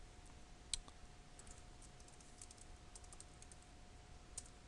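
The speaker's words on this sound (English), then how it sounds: "So we'll type in root and then the password that we put." Keys tapped on a computer keyboard while a root username and password are entered for a phpMyAdmin login on Ubuntu Linux, faint scattered clicks with a couple of sharper strokes, no voices.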